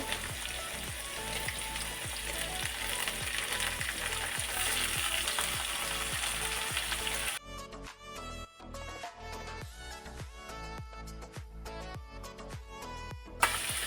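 Onion, green chili and tomato sizzle and fry steadily in a pan, with stirring clatter and scraping; the first half is loud continuous frying, then quieter sizzle with sharp repeated spoon hits against the pan.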